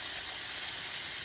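Chicken tenders sizzle in a hot pan over high heat, a steady, close, broadband frying hiss with faint crackles throughout, no voices.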